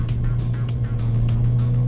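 A 2022 Hyundai i20 N hot hatch lapping Wakefield Park circuit, its engine holding a steady, loud low drone with slight pulsing as it drives on.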